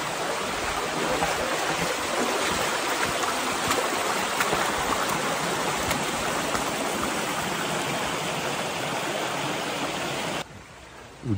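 Steady rushing of stream water flowing along the Vesdre ditch near Eupen, a dense, continuous wash heard close and alone for about ten seconds before it drops off abruptly at the end.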